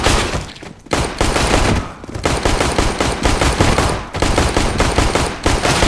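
In CS:GO, a burst-fire gun fires loud, dense, rapid volleys that run almost continuously, broken by a few brief pauses, with no voices over the shooting.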